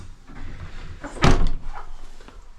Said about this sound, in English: Cynthia's opened the door up here.